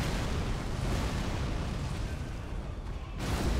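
Godrick the Grafted's wind special attack in Elden Ring, a loud and steady rushing roar of gusting air that fills the clip and briefly thins near the end before surging back.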